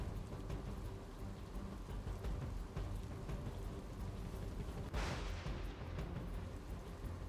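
Heavy monsoon rain pours steadily over the Gujarat region, a dense continuous hiss of downpour at constant loudness, with a brief swell of rushing water near the end and no voices.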